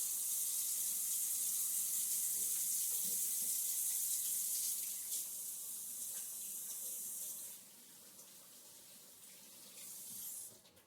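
Kitchen tap running during washing up while preparing a roast turkey, a continuous bright rush of water that shifts and weakens toward the end as the flow is interrupted.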